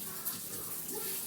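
Steady running water from a tap or shower while shampoo is rubbed into hair and scalp, a continuous close hiss with no speech.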